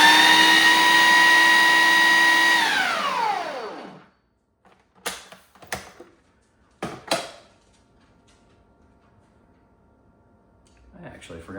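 Basil pesto pulsed in a food processor: a loud, steady motor whir holds for about three seconds, then winds down, followed by a few short clattering knocks and brief bumps near the end.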